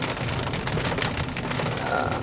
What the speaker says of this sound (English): man, we're just getting pelted by the rain